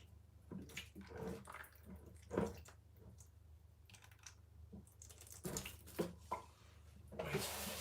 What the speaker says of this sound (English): a little bit of water down there